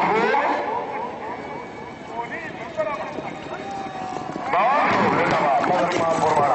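A horse gallops at a tent pegging (neza bazi) event in Mandi Bahauddin, hoofbeats heard amid crowd noise and a loud announcer talking over a public address throughout.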